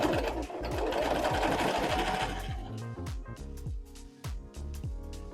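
A sewing machine starts with the needle down and stitches briefly, a close fast rhythmic whir that winds down into slower individual thumps of the needle before stopping.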